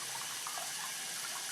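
Warm water runs steadily from a tap to rinse etching cream off a mirror, a constant close hiss and splash with no talk.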